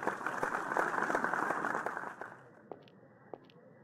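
Applause for graduates at a ceremony in a video game, a crowd clapping steadily at moderate volume before it thins out to a few scattered claps.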